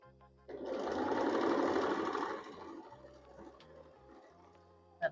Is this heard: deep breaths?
no